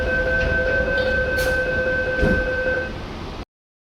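A Sydney Metro train running, with a steady rolling rumble under sustained tonal whines and a couple of brief higher swishes, close and loud, then cutting off abruptly.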